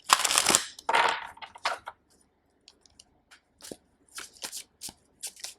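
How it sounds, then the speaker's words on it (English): A deck of oracle cards is shuffled by hand: a few long riffling bursts, then a quieter run of short, separate card flicks and taps, close and alone without talk. "I feel the need to pull out a blessing card for you"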